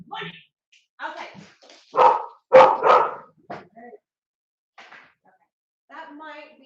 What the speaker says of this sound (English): They don't usually bark quite that loudly for that.